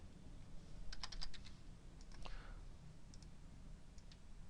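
Quick, close clicks of a computer keyboard and mouse while renaming an Excel 2010 sheet: a burst of rapid keystrokes, a brief pause, then a few scattered clicks, crisp and quiet with no voice.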